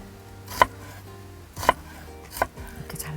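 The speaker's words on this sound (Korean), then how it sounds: "이렇게 잘라서 다시 가로로 썰면 이렇게 아주 작은 양파가 되겠죠." A knife chops an onion finely on a cutting board, giving three separate, fairly loud knocks spaced about a second apart, with no talking.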